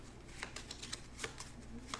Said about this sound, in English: Take a clue token, place that in the middle there, and shuffle these suckers up